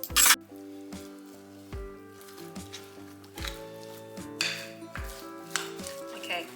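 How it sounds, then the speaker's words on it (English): A fruit and oat bar mixture is stirred in a bowl: irregular scraping and clinking of the utensil against the bowl, close by, with soft tonal ringing from the dish and no voices. "now we're just going to give it a really good mix"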